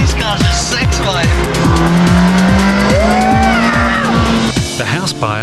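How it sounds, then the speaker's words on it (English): A Ferrari sports car roars past with loud, near engine revving and a long, squealing tyre skid, as music and voices play beneath it. "Joe's testing the Ferrari"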